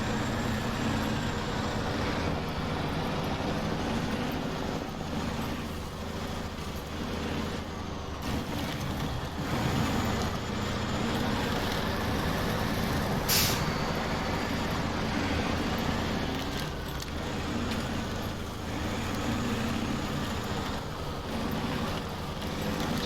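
A truck engine in the game SnowRunner drones on steadily at cruising pace, a low continuous chug with a faint whine above, holding even for the whole stretch, with no talk and one brief hiss partway through.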